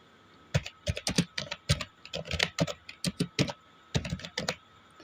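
Someone types on a computer keyboard while filling in an online exam application form, with irregular clusters of crisp, close key taps separated by short pauses and no talk over them.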